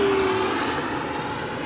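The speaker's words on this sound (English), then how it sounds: "Pause for a plane. Always the plane." An airplane flies overhead outdoors, a loud, steady engine roar that fades slightly over a moment, with no one speaking.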